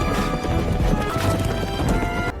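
Several horses arrive at a gathering of the Beggar Clan allies in a martial arts film, their hooves clattering in a dense, loud, continuous patter with occasional heavier knocks and no talk.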